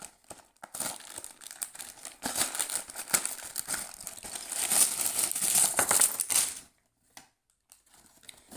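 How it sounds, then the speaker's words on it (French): A plastic LEGO parts bag for City set 60239 is torn open and handled, crinkling and rustling steadily up close for several seconds before stopping, with a few soft rustles after. "On ouvre notre paquet."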